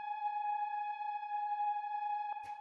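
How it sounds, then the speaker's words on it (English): A steady FM synth drone of detuned sine waves holding G sharp, a pure sustained hum for a dark melodic techno track, with a brief soft noisy blip near the end. "It's just like this kind of drone sounds playing throughout the track"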